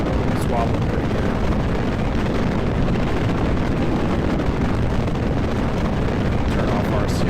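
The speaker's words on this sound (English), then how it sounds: "You can't really hear what I'm saying because it's the rocket engine's so loud" A rocket engine in Kerbal Space Program roars continuously, a loud, dense, unbroken rumble filling the whole stretch without pause.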